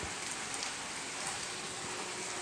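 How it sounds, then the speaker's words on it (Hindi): Heavy rain pours down steadily, a dense continuous hiss of drops drumming on surfaces with no break and no voices. "ये देखिए बारिश, बहुत तेज़ वाली बारिश शुरू हो गई है"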